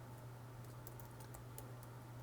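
Fingers tap out a short burst of quick keystrokes on a computer keyboard, faint and close over a steady low electrical hum, with no talking.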